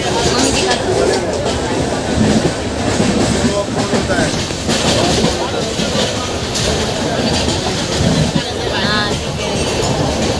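A train rolling along the rails with a steady rumble and some clatter, heard from close by, as at an Indian station in Nashik, with people talking over it throughout.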